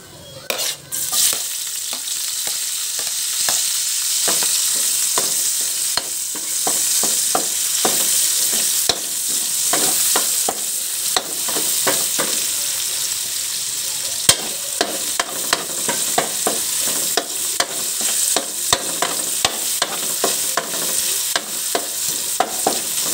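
Bottle gourd (upo) stirred and sautéed in a hot pan, with a steady sizzle of frying and repeated scrapes and clinks of a spatula against the pan throughout.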